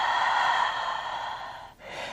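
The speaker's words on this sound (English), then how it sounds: "Take a full breath in and a full breath out." A single long, full breath during a yoga stretch, steady airy rush that fades briefly near the end and picks up again, close and clear with no talking.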